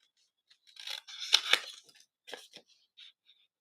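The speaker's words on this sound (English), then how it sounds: "So I'm just going to fussy cut around." Scissors snipping around stamped paper leaves and flowers, a close series of crisp short cuts and paper crinkles in irregular bursts with brief pauses, quiet setting, no talking.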